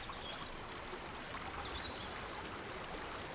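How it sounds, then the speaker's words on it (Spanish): A steady, soft wash of flowing stream water runs continuously at low level, with faint trickling texture and no other sounds. "Sentí el sonido del agua"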